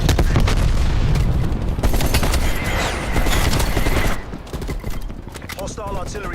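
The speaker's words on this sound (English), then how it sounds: "Hostile artillery targeting active. Artillery inbound." Artillery strike in the video game Black Ops Cold War: a dense barrage of loud booming blasts and rapid gunfire rumbles continuously for several seconds, then thins into scattered, quieter impacts.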